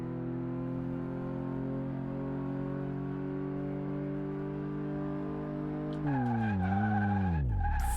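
Car tires in a racing video game brake test: a long steady engine drone holds at one pitch, then a sudden loud tire squeal and skid erupts as the engine note drops sharply toward a stop.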